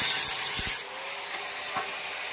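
A saw or cutter rasps through a broken Yamaha FZ-S motorcycle silencer pipe in a loud, steady burst that stops abruptly, followed by a few close clunks and light scraping as the cut piece comes free.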